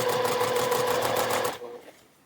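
A sewing machine stitches a zipper on a fabric pouch at a short stitch length, running in a fast steady whir for about a second and a half before stopping abruptly, close and clear.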